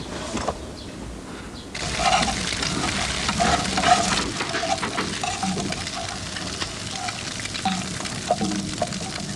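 Bacon and eggs sizzle in a frying pan with a steady, close crackling hiss that swells after a quieter start and keeps going throughout, with no one speaking.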